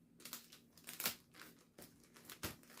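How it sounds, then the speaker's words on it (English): Tape pulled and pressed down to secure a bobo balloon, a run of crinkly, rustling bursts with a few sharper rips, close and fairly quiet. "tape it down in the front and in the back with the secure tape"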